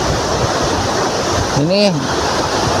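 Steady broadband rush of the Curug Sanghyang Taraje waterfall in Pamulihan, Garut, close and loud throughout, with someone briefly speaking over it partway through.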